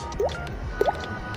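Two wet, plopping droplet sounds, about half a second apart, made with the mouth to imitate falling water drops, close and clean against a quiet background.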